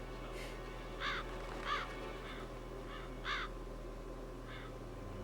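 Crows caw in the Metal Gear Solid video game, several harsh calls spaced irregularly over a steady low background hum, moderately loud and with no voices.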